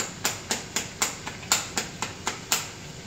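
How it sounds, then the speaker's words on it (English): A bottle of stir fry sauce shaken hard in a steady rhythm, about a dozen quick close sloshing knocks roughly twice a second, with no talking. "it's time to shake up the sauce"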